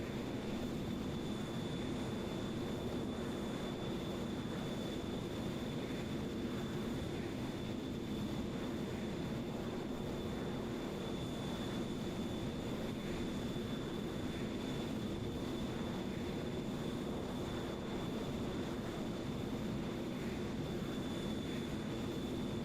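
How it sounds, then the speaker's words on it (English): An F-14 Tomcat jet cruises on autopilot in Microsoft Flight Simulator 2020, a low, steady engine drone with a faint high tone above, unbroken and even for the whole stretch, no talking. "I am flying a jet"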